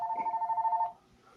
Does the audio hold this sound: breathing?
no